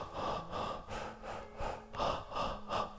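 Demonstration of running breath taken in three parts: a steady series of close, audible breaths in short rhythmic bursts, each in or out split into segments, repeating without talk.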